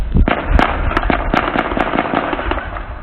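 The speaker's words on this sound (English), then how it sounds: "Sudanese security forces have opened fire in the capital," Rapid bursts of gunfire from Sudanese security forces in Khartoum, sharp loud cracks and pops coming in quick uneven clusters over a dense, continuous din, close and unrelenting.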